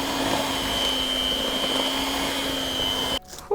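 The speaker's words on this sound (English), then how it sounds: "Now we get that hand mixer out and just bring it all together." A hand mixer whirs steadily through gingerbread dough in a bowl, a loud continuous motor drone with a high whine that cuts off abruptly near the end.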